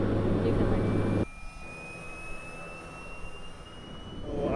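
Steady airplane engine drone inside the cabin of an ice observation plane searching for icebergs off Newfoundland, a constant roar with a louder low rumble at first, then a thinner hum with a faint rising whine.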